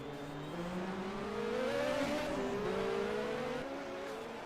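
1986 Formula 1 cars, a Ligier and a Ferrari, race at the Australian Grand Prix, engines howling continuously with rising and falling pitch as they accelerate and shift, steady and fairly close with no talk.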